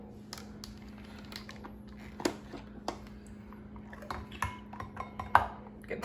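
A bowl handled while cooking shrimp burger mixture, with light clinks, taps and scrapes of dishware and utensils at irregular intervals over a low steady hum, close and fairly quiet.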